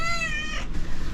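A pet cat lets out a single short, faint meow indoors in a camper van.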